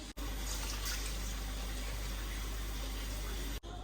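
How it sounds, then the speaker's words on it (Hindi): A cup of water pours onto sugar for syrup in a steady, continuous broadband wash, close and even, with no talking over it. "इसमें 1 कप पानी डालूंगी"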